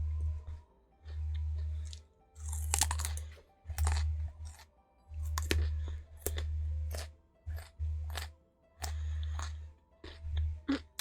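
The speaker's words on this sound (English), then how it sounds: "And now all of my thoughts are just comprised of me chewing." Raw carrots being chewed close to the mic in a steady run of loud, wet, crunchy bites, about eight chewing bursts with short pauses between them and no talking.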